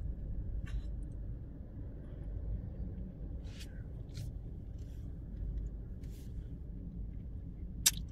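Traffic at a busy roundabout in Lagny-sur-Marne gives a steady low rumble of many engaged vehicles, with a few faint clicks and scrapes over it and no one talking.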